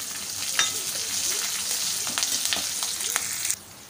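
Cumin, green and red chillies and curry leaves sizzle and fry in a pan while being stirred, a steady close crackle with small scraping stirs throughout that cuts off abruptly near the end.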